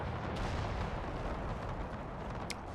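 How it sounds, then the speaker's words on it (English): Distant cannon fire rumbles through a Napoleonic battle in the Napoleon video game with the Era Mod, a dense, continuous roar of booming artillery and crackling muskets with no clear separate shots. "That must be enemy fire because I have no cannon deployed"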